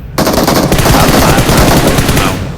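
An M4 rifle in a video game fires a rapid, continuous automatic burst, loud and close, with dense rattling shots filling the whole stretch and no talking.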